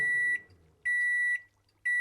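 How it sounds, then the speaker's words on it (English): Microwave-style electronic beeps sound as an infusion finishes in modded Minecraft (SkyFactory One): two loud, steady half-second tones a second apart, with a third starting at the end, and quiet gaps between. "Like a microwave going off, which is kind of interesting."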